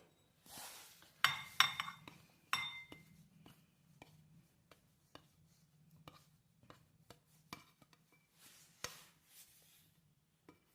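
Ceramic and metal clinks and scrapes as a homemade snack of raw peas and wheat-flour masala puri is moved off a plate into a large vessel, scattered knocks and taps near and fairly quiet.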